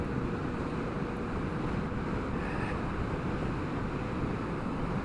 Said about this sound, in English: Quite a bit of wind, but not much noise